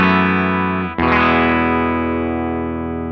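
Bridge pickup of a Telecaster driven through a Quilter Custom Shop amp and Eminence GB 128 speaker, one chord fading, then a single sharp restrike ringing on with bright, slightly gritty sustain that slowly tapers, loud and alone.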